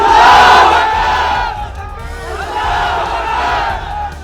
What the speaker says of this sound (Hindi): टोंक की सड़क पर ऐसे ही नारेबाजी करती हुई ये भीड़ निकली